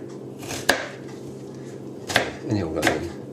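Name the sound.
chopping onion with a big knife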